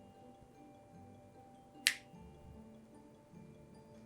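One sharp, crisp finger snap rings out near the middle in an otherwise quiet room, a single bright click with faint low background hum.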